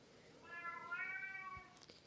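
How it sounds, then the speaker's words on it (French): A pet cat meows in one drawn-out, wavering call indoors, moderately close, with a faint click near the end and no talking. "il y a mon chat qui est en train de miauler"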